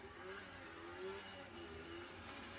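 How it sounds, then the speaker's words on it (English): A neighborhood kid's small four-wheeler ATV on a residential street, its engine buzzing and revving faintly in the distance, steady and low in level without any talk. "One of the neighborhood kids like to ride his little four-wheeler up and down the street"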